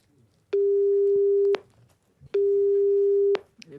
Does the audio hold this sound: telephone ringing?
yes